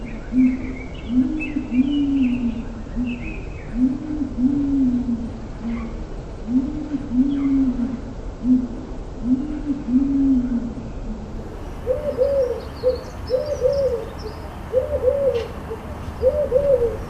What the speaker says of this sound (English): Collared dove.